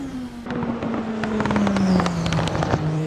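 A race car engine in the Assetto Corsa sim revs steadily under load, a clear droning tone gliding slowly downward, with crackles and flaps spread over it for the whole stretch.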